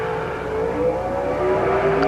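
Drag racing cars launching off the line at U.S. 30 Dragway, engines roaring loud and close with a steadily rising pitch as they accelerate, with no talk.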